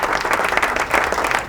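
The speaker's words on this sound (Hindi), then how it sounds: "फ़ाइज़ा, आ जाए, तालियां भाई।" Studio audience clapping on a cooking show, a brief burst of lively close applause.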